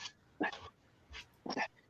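A dog gives a few short, close barks and yips in a quiet room, three brief bursts with pauses between them.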